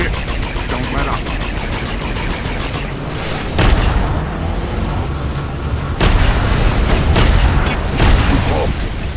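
Heavy bombing explosions in the PS3 game Transformers Revenge of the Fallen, during a Ratchet mission: deep booms land at intervals over a continuous rumbling battle bed, with the loudest blasts near the middle and end.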